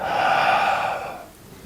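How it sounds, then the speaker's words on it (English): A person exhales during a tai chi walking practice for seniors: one long, breathy outward breath, close and fairly loud, fades over about a second into quiet. "Breathing out."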